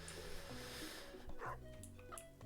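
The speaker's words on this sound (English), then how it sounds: "I heard the dog bark." A dog in the farming video game Stardew Valley gives a couple of short yips and a soft whimper, faint and brief over a quiet game soundscape with background music.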